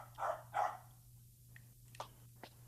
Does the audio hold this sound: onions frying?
no